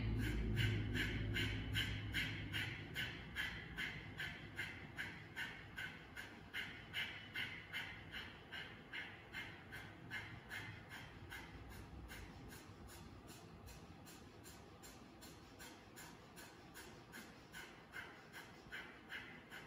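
Someone breathes deeply during a guided exercise, with a long exhale followed by rapid rhythmic panting bursts that repeat steadily and close to the listener, fading slightly toward the end.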